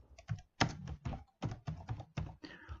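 Someone types on a computer keyboard, the keys clacking in uneven clusters of quick taps with short pauses between them, close by and fairly quiet, with no voice over it.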